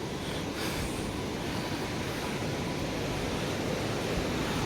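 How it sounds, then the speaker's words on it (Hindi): Flowing water of the Binwa river, a steady broadband rush that stays loud and unbroken throughout, with no voices over it. "और ये रहा हमारी बिनवा नदी"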